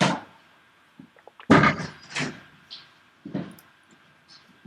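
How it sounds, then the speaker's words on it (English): A door swings shut with a solid thud in a quiet room, followed by a few softer knocks and settling bumps as it latches. "let me just close that door"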